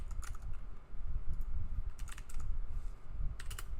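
Fast, irregular clicking of keys on a computer keyboard directly beneath a microphone, close and fairly quiet, in uneven bursts with short pauses and no talking.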